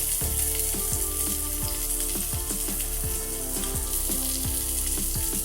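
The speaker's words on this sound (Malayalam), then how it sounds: "നമ്മൾ ചതച്ചു വെച്ച മാസ് ഇതിലിട്ടൊന്ന് ഫ്രൈ ചെയ്തെടുക്കണം." Crushed onion, ginger, garlic and chili sizzle steadily in hot coconut oil in a pan for a dry chammanthi, with repeated clinks and scrapes of stirring over the continuous close frying hiss.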